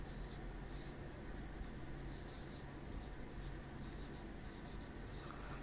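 A pen or marker scratches steadily across a surface as a math discriminant formula is written out for a 10th-grade lesson, with continuous soft strokes over a low hum and no talking.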